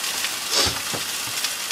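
Hash browns frying in a pan inside a van, a steady close sizzle and crackle of hot oil with a few soft stirring scrapes.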